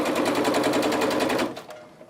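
A sewing machine stitches pieced quilt block sections together, a fast rhythmic chatter of needle strokes that runs steadily and then winds down and fades.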